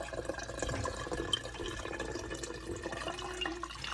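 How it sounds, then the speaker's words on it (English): Buttermilk draining off freshly churned homemade butter, a close trickling and splashing of liquid with small drips, running steadily throughout. "I have this liquid that's going to come off of this is going to be buttermilk."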